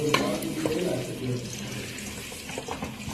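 Food frying in hot oil in a home kitchen, a steady broadband sizzle and crackle throughout, with a voice talking over it.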